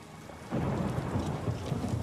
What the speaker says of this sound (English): It must be like super thunderstorm.